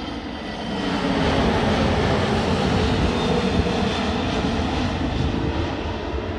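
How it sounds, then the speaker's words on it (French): Airplane passing overhead, a steady broadband engine roar that swells in after about a second and holds loud and constant throughout, with no voices. "En 2 minutes, vous avez déjà eu 2 avions."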